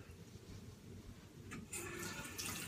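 Tap water runs steadily to wet the head of a facial cleansing brush, a continuous soft rush that swells and brightens partway through, alone without talk.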